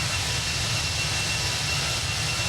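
A steady, unbroken jet engine roar from a United A319 in X-Plane, loud and constant, with a low rumble beneath a bright broadband hiss and no pauses or talk.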